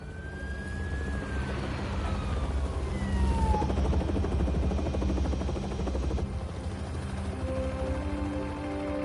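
Helicopter flying in the video game Marvel's Spider-Man 2, a steady dense rotor drone filling the scene with a falling whistle-like tone early on, moderately loud and continuous with no talk.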